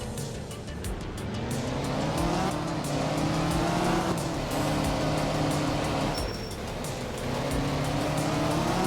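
A rally car in the video game Art of Rally drives hard, with a continuous revving engine note that rises and falls through gear changes, mixed with tire squeal and skidding.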